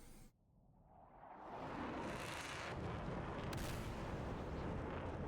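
An AIM-120C missile strikes a jet in a 4v4 combat flight simulator match: a deep, sustained roaring blast swells over a couple of seconds and holds as a loud, rumbling wash of noise.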